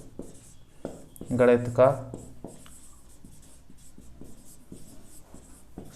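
Chalk or a marker scratches across a board in short strokes during a maths lesson, faint and intermittent beneath someone speaking Hindi.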